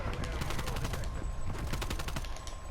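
Rapid bursts of Street Sweeper shotgun fire in a shooter video game, dense overlapping booming blasts filling the whole moment, loud and close.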